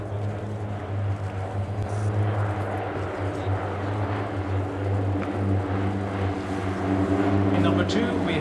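Norwegian Air Force display aircraft pass in delta formation, a sustained droning propeller hum holding steady and swelling slightly toward the end, with a commentator's voice over it.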